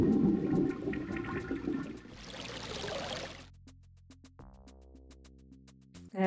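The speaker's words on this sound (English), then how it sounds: "I'm gonna flush our cauldron here." A cauldron is flushed in Legend of Kyrandia 2, a loud rushing gurgle of water like a toilet draining that fades after a few seconds into quiet sustained tones of game music.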